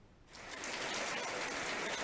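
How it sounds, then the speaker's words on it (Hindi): Heavy rain pours down as a dense, steady hiss that swells in after a brief quiet start and holds loud and constant, with no voices. "यहाँ बहुत तेज बारिश हो रही है"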